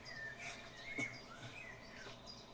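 Small birds chirp and tweet faintly in an outdoor setting in Denmark, a few brief high calls scattered over steady quiet background ambience with no talking.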